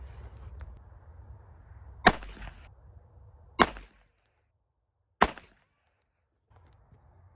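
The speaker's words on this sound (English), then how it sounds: "I'm gonna go ahead and try shooting another 3-shot group" Three sharp, loud shots from a Walther PPK .22 LR pistol with a short barrel ring out one at a time, spaced about a second and a half apart, with quiet gaps between them.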